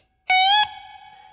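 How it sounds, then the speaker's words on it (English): A distorted electric slide guitar plays a single sustained note that glides upward to the 16th fret, then is cut short as the picking hand mutes it, leaving a quieter ringing tail. "So we slide up to 16 and I use my picking hand to mute back down."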